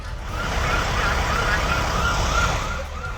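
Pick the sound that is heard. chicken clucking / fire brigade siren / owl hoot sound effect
fire brigade siren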